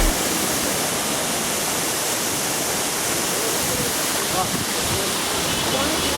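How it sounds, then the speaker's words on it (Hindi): Panjkora waterfall in Upper Dir, Pakistan, with crystal-clear water, roaring as a steady, loud broadband rush of falling water that holds even from start to finish. "तो गाइस जैसा आप मेरे पीछे देख रहे हो ये आबशार है जी, पंचकोरा आबशार।"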